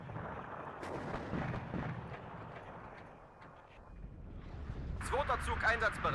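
Artillery fire in the WARNO wargame: booming, broadband blasts that rise toward the end of the clip, mixed with other battle noise under a person talking.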